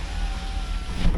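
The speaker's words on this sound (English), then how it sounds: "Make sure the window works." Power window motor on a 2004 Chevrolet SSR running steadily for about a second, a close, continuous electric whine over a low car-interior rumble.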